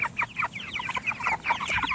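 Meat chickens in a chicken tractor cluck busily and close by, a dense overlapping chatter of short calls from several birds without pause.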